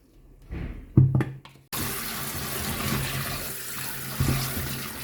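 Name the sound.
washing coconut pieces under running water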